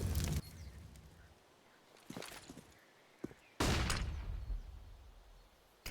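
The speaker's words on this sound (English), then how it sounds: "Rizu now takes a pop shot with the Deagle, can't make it connect" A Desert Eagle pistol shot fired in a Counter-Strike match on the Inferno map, with sharp bursts of gunfire cracking out amid ongoing game ambience, including a loud blast midway followed by a lingering tail.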